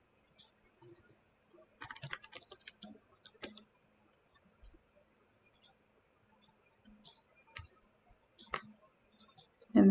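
A computer mouse clicks in scattered sharp bursts during Photoshop editing, with some quick runs of clicks that sound like keyboard typing. The clicks are close and moderately quiet, with near silence between them and no talking.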